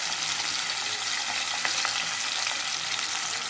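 Steady, loud sizzle of hot oil frying in a kadai on a stove, a continuous hiss with a few faint stirring clinks near the middle.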